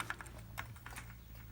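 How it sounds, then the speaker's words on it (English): Single keys tapped repeatedly on a repaired Amiga 600 keyboard, a quiet run of light, evenly spaced plastic clicks with nobody speaking. "I'm typing O, and I'm only getting O's now"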